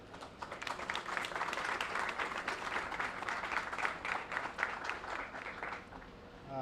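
An audience at a grand opening celebration for a townhome development applauds a speaker, with steady, dense clapping that holds for several seconds before tapering off.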